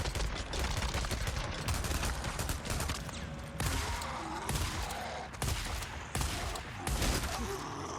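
Rapid repeated gunshots in the Days Gone game on PC, loud and close, firing in quick clustered bursts over several seconds with little pause between them.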